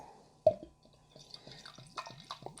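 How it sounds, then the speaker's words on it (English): Amsterdam Brewing Double Tempest, an 11.9% dark beer, glugs and drips as it is poured from a bottle, a thick liquid sound with a series of soft repeated gurgles after an initial splash, close and fairly quiet. "it's pouring out like motor oil"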